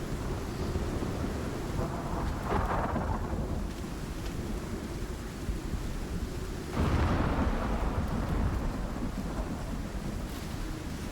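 A storm in the video game Icarus: a steady roar of heavy rain and wind with low rumbling thunder, swelling louder around the middle and rolling on continuously without any talk.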